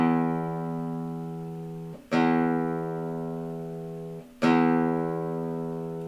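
Low E string of an electric or acoustic guitar plucked twice for tuning, each note ringing out clearly and sustaining for about two seconds before the next pluck, a steady tone with no talking.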